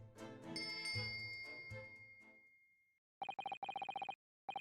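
A servant's bell cord pulled beside a bed in a ship's cabin in the video game, setting off a bright chiming ring that decays, followed after a pause by rapid repeated electronic bell trills in bursts.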